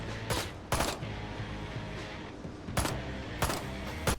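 Weapon fire in the video game Ride to Hell: Retribution comes as a few thin, sharp gunshot cracks at irregular intervals over a low background rumble.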